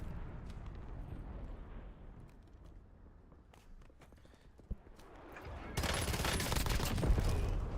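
Gunfire in the Warzone video game, scattered sharp shots and then a dense burst of rapid fire swelling to a loud continuous crackle near the end, with no talking.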